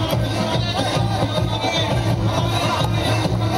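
Dense crowd noise at a political road show in Berasia, Bhopal, a steady loud hubbub of many voices and background din filling the whole stretch without pause.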